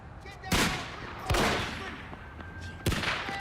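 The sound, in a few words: gunfire, stray rounds in The Wire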